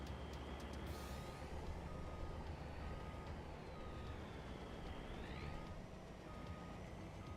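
A long truck in Farming Simulator 25 reverses with steady, repeated backup beeps over a constant low diesel rumble, a brief air-brake hiss near the start, no talking.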